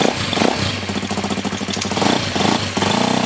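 A motorcycle engine runs steadily at idle just after starting, close and fairly loud, a rumbling mid-pitched drone with slight unevenness, run to dry a freshly cleaned drive chain.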